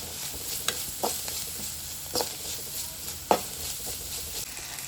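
Chopped onion cooking in butter in a pan, a steady faint sizzle with a few sharp stirring clinks scattered through, close and without talk.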